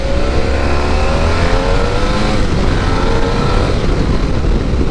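A motorcycle accelerates while being ridden, its engine droning loud and steady with rising harmonic tones under heavy wind rush for the whole stretch, no talking.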